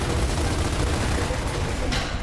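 Sustained automatic gunfire in Gears of War rattles as a loud, dense, continuous stream of shots with no break, ending with a brief sharper burst.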